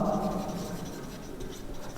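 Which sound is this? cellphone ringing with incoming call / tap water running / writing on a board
writing on a board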